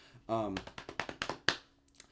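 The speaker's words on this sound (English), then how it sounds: "I'm going to go ahead and tap my leg" A hand taps on a leg to keep a steady beat, a run of soft, evenly spaced thumps that follows a brief spoken word.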